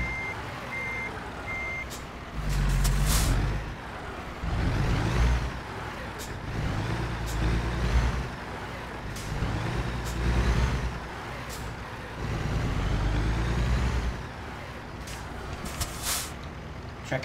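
A semi truck maneuvers into a parking spot while its reversing alarm beeps repeatedly, interspersed with bursts of low engine rumble and periodic air brake hisses, close and loud.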